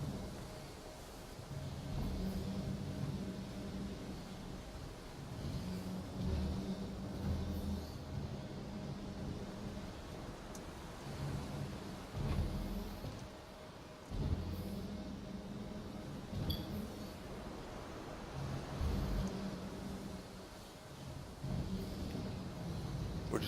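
A ground vehicle rolling across a barren desert planet in Star Citizen, a quiet, steady low engine drone with uneven surges and dips as it drives on, alone without talk.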